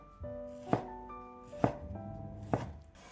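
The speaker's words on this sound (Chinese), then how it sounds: "接下来准备一块里脊肉，给它切成薄片，尽量切薄一些" A knife cuts a pork loin into thin slices on a cutting board, with three sharp chops at roughly even intervals and a faint musical background underneath.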